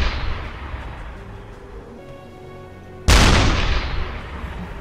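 A submarine deck gun fires APHE shells in the naval game UBOAT, with one loud, sharp blast ringing out over a steady engine rumble and tonal hum.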